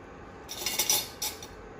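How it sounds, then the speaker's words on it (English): A utensil scrapes and clinks against a pan while chocolate and cream are stirred, two brief bright bursts of metallic scraping over a quiet background. "Keep stirring till the time it becomes heated."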